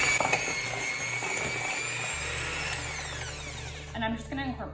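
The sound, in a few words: stand mixer creaming butter and sugar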